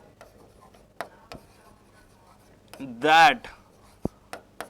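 A marker scratches out short strokes on a board during a mathematical logic lecture, with scattered taps and a brief squeaky scrawl, while the lecturer speaks a word.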